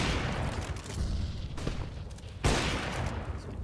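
Gunfire in CS:GO as players shoot through walls during a Cloud9 vs SoaR Gaming semi-final match: rapid bursts of shots over a noisy game background, with a sharp louder report near the end.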